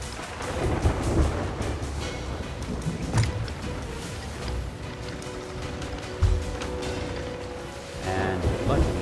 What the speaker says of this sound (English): that storm will hit us at the same time this goes through